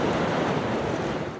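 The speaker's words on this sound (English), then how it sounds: "all this wind is going to churn up the waves at high tide and send it slamming into these houses" Storm-driven surf and strong wind pounding the Massachusetts coast at high tide, a dense, continuous roar of breaking waves and gusts, loud and close, steady throughout with no voices.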